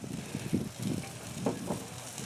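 Steak fillets cooking in a pan, a soft steady sizzle and crackle close by, with a few low bumps and stirring sounds, no talk.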